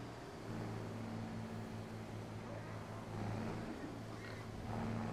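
A steady low engine drone from a tractor in Farming Simulator 25, with a constant hum running evenly throughout and no breaks.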